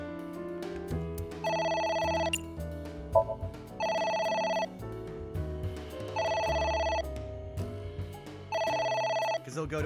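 A telephone in the video game Ai: Somnium Files rings in four repeated electronic bursts, each about a second long with short gaps, loud and clear over background game music.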